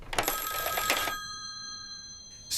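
An old-style telephone bell rings in a bright rattling burst, then a sustained electronic tone lingers before a second ring starts at the end.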